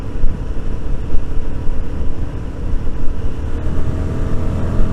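A Royal Enfield Guerrilla 450 motorcycle blasts down country lanes, its loud engine rumble steady and close, overlaid with heavy wind buffeting throughout.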